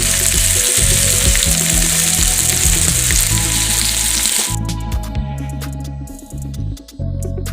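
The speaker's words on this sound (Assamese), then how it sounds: "মই তেলতে কৰি আৱাজটো একেবাৰে মাছ ফ্ৰাই কৰি থকা নিচিনা হৈছে দেই।" Taro leaf fritters fry in a pan with only a little oil, giving a loud, steady sizzle with crackling. Lighter pops and scrapes carry on through the second half as the hiss eases.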